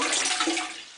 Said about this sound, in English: We'll find out now if this flushes first time